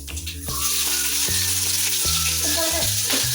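Green chillies fry in hot oil in a pan, giving a loud, close, continuous sizzle. Repeated scraping strokes of stirring run beneath it.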